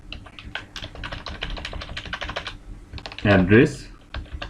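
Code is typed on a computer keyboard in rapid, close clicking bursts that pause briefly, while someone speaks over the keystrokes.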